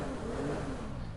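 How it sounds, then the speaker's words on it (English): Sentinel with an inline six engine in a GTA video game, revving in a steady, full-bodied drone that stays loud and continuous for about a second. "This inline six produces such an elegant sound."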